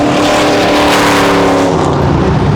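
A car engine revs hard and roars close by during street drag racing on 28th Street, a loud sustained rising drone that fades slightly toward the end, with no talking.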